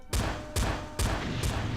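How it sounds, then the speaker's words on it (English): Red objects blow up when shot in the Western video game Guns & Spurs, giving four sharp, loud stock explosion blasts at roughly even intervals, each one booming and then trailing off, with no voices. "they have the most stock of stock explosion sound effects"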